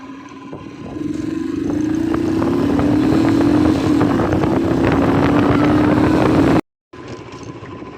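A motorcycle engine drones steadily while riding, its pitch climbing gradually as it gains speed. The engine is close and loud, then cuts off abruptly before resuming at a lower level.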